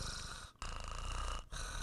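A person's voice imitates a cat purring while it is being stroked: a low, rough, continuous rumble, close and steady, broken by two short pauses for breath.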